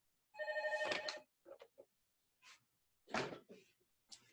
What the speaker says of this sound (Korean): 갑자기 전화 오고 이러네